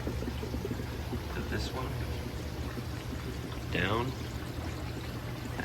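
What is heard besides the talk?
water flowing through pond filter media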